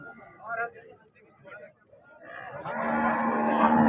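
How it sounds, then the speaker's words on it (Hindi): A calf moos at a busy livestock market, its call rising over crowd chatter and bustle; background talk continues throughout and grows louder in the second half. "नीचे बछड़ा है जी"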